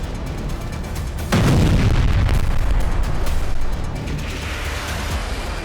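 Houthi Palestine missile launching: a sudden loud roaring boom bursts in and holds for about two seconds as a sustained blast-like rush, then drops back to a steady background rumble.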